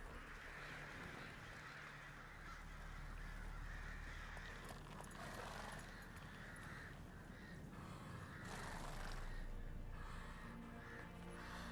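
Crows caw repeatedly in a low-poly open-world fantasy game set in Velen, northern Temeria, the calls mid-distance and moderately loud over a steady ambient wind-like background.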